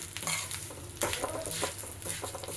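Lentils frying in an oil-filled pan, turning golden brown while being roasted for sesame chili powder, with a steady close sizzle and intermittent stirring scrapes throughout.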